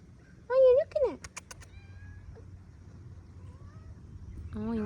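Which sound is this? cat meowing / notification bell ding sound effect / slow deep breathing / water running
cat meowing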